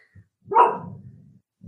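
A dog barks once, loud and close, in a single sharp woof with a trailing rumble, followed by a brief start of another bark.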